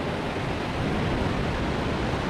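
Ocean surf rolls in continuously on a beach in Indonesia, a steady broadband roar of breaking waves with no pauses, loud and close, with no voices.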